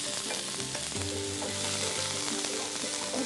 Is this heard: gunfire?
no